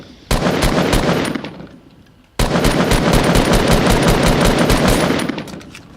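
Rapid automatic gunfire in Fortnite rattles off in two loud, dense bursts separated by a brief pause, each string of shots fading slightly at its tail.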